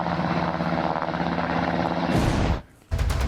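A military helicopter flies overhead with a steady, loud rotor and engine roar that cuts away abruptly near the end, followed by a brief new burst of noise.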